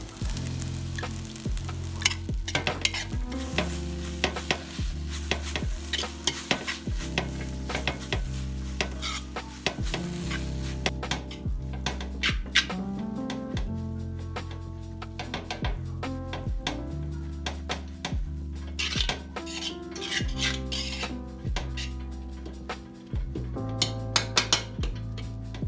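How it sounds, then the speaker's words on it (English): Egg fried rice is stir-fried in a pan, with a continuous sizzle under repeated scraping and clinking of a utensil against the metal as the clumps are broken up, close and busy throughout. "I'll make sure you break all the clumps you have in the rice."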